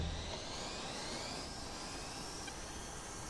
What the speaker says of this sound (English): the Mirage kind of takes a minute to spool